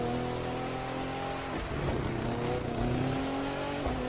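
Touring car engine in The Crew 2 racing game, a loud sustained high-revving whine that drops briefly mid-run with a gear shift before climbing again, continuous and close.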